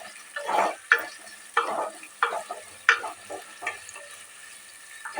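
Onions sizzle and fry in a pan while a utensil scrapes and stirs them in repeated sharp strokes, close and moderately quiet, for a home-style biryani.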